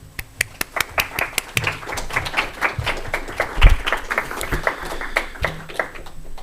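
An audience at an academic lecture on academic freedom and antisemitism claps to welcome a professor, a steady patter of many hands with sharp individual claps standing out, fairly close and with no talking.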